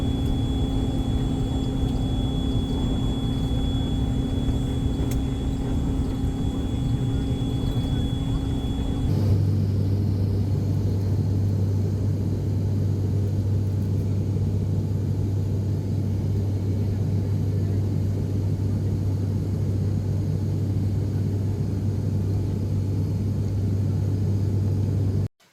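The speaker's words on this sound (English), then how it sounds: "We did a propeller flight, which I took some video of and photos" Cabin of a propeller airplane on a flight arriving at Siem Reap, Cambodia, filled with a loud, steady engine drone. A high whine rides on top at first, then gives way to a deep, even rumble that lasts throughout.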